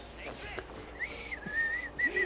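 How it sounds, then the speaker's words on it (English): A person whistles softly, a thin, steady tone held for about a second, then a shorter second whistle, with a rising low hum between them, heard close up over faint background noise and no speech. "I can only go soft whistle"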